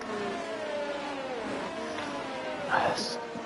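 Several race cars in a racing video game roll slowly toward the grid, their engines whining and droning at varied pitches, steady under continuous commentary talk.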